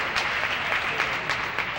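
A crowd applauds steadily at a 1990 women's singles tennis final after a nice shot, dense and even clapping from many hands that fills the space, with no talk.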